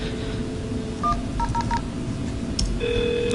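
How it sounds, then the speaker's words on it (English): A telephone dials into an Asterisk server, a short run of distinct touch-tone beeps followed by a steady tone starting near the end, clear and close. "I'm just going to dial into the Asterisk server"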